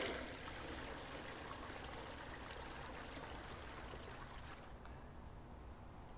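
A steady trickling stream of liquid as a character urinates in the video game Rainswept, a faint continuous splashing flow that softens slightly near the end, with no talk.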